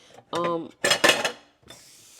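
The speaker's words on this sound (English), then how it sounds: "First things first, what we got to do is we got to clean these dishes" Dirty dishes being washed, with plates and cutlery clinking and clattering in two short bursts, close and fairly loud, followed by a softer rattle.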